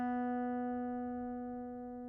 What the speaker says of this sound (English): next string is going to be our B string